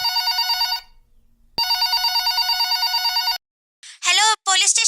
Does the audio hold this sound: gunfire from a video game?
no